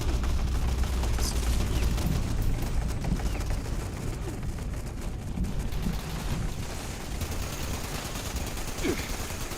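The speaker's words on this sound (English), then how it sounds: "Because my turrets are shooting at them." In Fallout 76, automated turrets fire at mobs in a rapid, unbroken rattle of gunfire. The shots stay fairly loud and constant over a low rumble, with only faint, sparse chirps on top.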